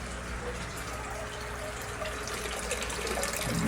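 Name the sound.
water draining into a tank in a Kratky grow setup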